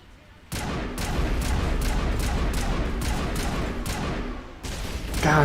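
Rapid weapon gunfire during a Geth ambush in Mass Effect 1, a loud string of about eight sharp bursts at steady intervals over a constant roar of battle, with a final boom at the end.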